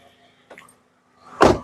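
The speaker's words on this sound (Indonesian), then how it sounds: "kita buka saja jendelanya" A 2008 Toyota Vios 1.5 G automatic, with a faint click followed by a brief burst of motor and mechanical whoosh from the car window, close by and with no voices.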